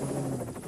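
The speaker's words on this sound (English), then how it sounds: "Are you actually back in the helicopter?" A helicopter droning close by during a 1987 Isle of Man treasure hunt, a short steady rotor and engine hum with a pulsing beat.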